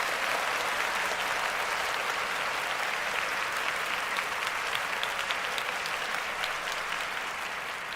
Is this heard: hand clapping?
yes